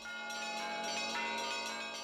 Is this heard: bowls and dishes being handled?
no